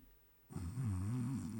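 A human voice imitates the snoring of an invisible character at a Dungeons & Dragons game table: one long, low, rumbling snore that starts abruptly and holds with a wavering pitch, close to the microphone.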